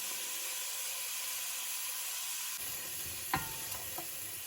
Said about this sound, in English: We're gonna use this schmaltz to fry the onion up in.